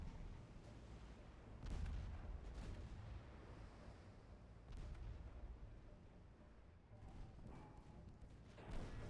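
Naval guns fire in Ultimate Admiral Dreadnoughts, a warship video game, as a few faint, distant booms rising out of a low rumbling background.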